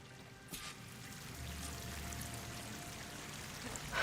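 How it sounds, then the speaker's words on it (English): A waterfall in the video game Horizon Forbidden West rushes as a steady, soft, distant wash of falling water, continuous throughout with a couple of brief brighter splashes. "That waterfall must be coming from somewhere."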